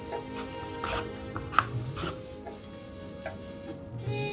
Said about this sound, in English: So this is about 1/4 of a coconut sliced.